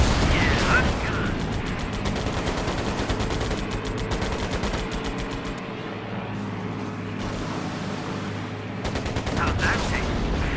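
Rapid bursts of aircraft machine-gun fire in the WWII Pacific air combat game Air Conflicts Pacific Carriers, crackling fast and loud over a steady engine drone, with a short lull before firing resumes.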